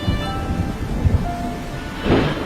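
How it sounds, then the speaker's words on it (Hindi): Steady heavy rain hisses throughout, with low rumbling thunder swelling in a few bursts and a louder roll near the end. "बारिश बहुत ज्यादा तेज थी।"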